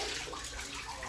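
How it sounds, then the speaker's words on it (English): A strong stream of water pours steadily from a hotel room shower, a dense, continuous hiss close by with no talk. "Nice strong stream of water coming out, and it's already getting warm."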